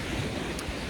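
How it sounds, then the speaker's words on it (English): Intense waves on late-season Lake Michigan, a brief burst of steady rushing surf mixed with wind buffeting the microphone. "the intense waves are also extremely bizarre and weird for late season Lake Michigan"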